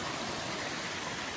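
Raging creek on a Mount Hood wilderness trail, loud continuous rushing and churning water close by, a dense steady roar with no voices.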